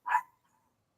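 A single short dog bark close by, one sharp yip that quickly fades to quiet.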